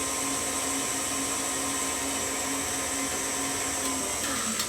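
Electric stand mixer whipping meringue icing in a bowl, a loud, steady whirring motor drone with a constant pitch held throughout, no voices.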